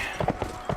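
Horse hooves clopping in the Mount and Blade Warband video game, a few sharp hoof beats in quick irregular bursts over a steady low background.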